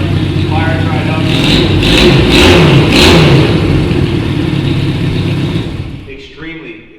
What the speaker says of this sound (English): It's a 1966 Honda SuperSport 160 electric start. Fires right up.